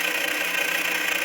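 The electric motor of a modified 24V Razor E100 ride-on, running without a controller, whirs under throttle with a steady buzzing drone and fine rapid pulsing, close and continuous throughout.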